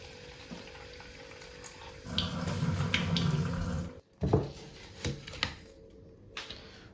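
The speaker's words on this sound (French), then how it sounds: "Il faudrait que je remette de l'eau ici." Water poured into a jar of plant cuttings in a kitchen: a brief burst of pouring splash, then clinks and small knocks of the jar against a quiet background.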